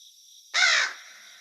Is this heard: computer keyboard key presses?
no